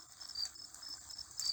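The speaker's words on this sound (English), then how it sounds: "The radio's buzzing like a little bee." Steady, faint electrical buzz from an old radio, a thin continuous drone with slight flutter, alone with no voices over it.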